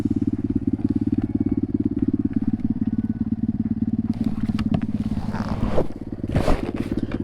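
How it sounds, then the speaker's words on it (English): A dirt bike engine idling nearby in a steady, loud, rapid putter, with scraping and rustling handling noises over it near the end. "let's hop on the dirt bike, guys"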